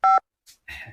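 Telephone keypad dialing tones, two short beeps separated by a brief gap, followed by a faint click and a buzzy tone, loud and close.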